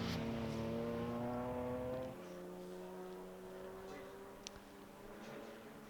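Classic Jaguar race car at Silverstone, its engine note drawn out as it passes through a corner, fading from close to farther away, with commentators talking over it.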